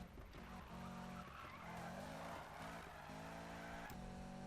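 A car drifts in Need for Speed 2015 as its tires skid and squeal in long wavering tones over the engine's steady roar, loud and continuous throughout.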